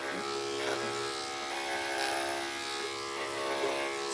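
Electric dog clippers fitted with a 7 blade shave a dog's side, giving a steady, close motorised buzz with a high whine that holds evenly throughout with no voices.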